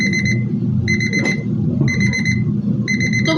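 A kitchen timer beeps in rapid, high-pitched bursts of about half a second each, repeating several times with short gaps. Low household murmur sits underneath, and there is one brief clatter.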